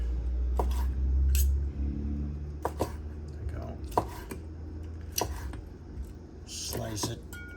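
Knife slicing hot braised pork ear on a cutting board, with a series of sharp chopping taps spaced irregularly and some dish clatter, under a steady low background hum.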